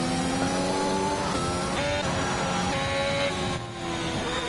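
Race car engine in a racing video game, howling loudly as the car takes an S-bend section at Japan, with pitch rising and falling through the corners and a brief dip before revving again.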